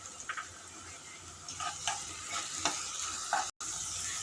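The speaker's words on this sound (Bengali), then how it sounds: "তেলের মধ্যে ভেজে নেব" Garlic and onion fry in hot oil in a pan with a low, steady sizzle, stirred in a few soft scraping strokes, with a brief dropout near the end.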